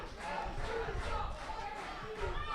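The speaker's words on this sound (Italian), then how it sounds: "e si fa sentire la tifoseria bolzanina" Bolzano football supporters chant together in a stadium during a match against Trento, a sustained, rhythmic roar of many voices heard from a distance.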